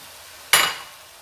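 Chili powder hits a hot pan with cooked green onion and garlic, giving one sudden sharp sizzle that flares and fades within half a second, close and fairly loud.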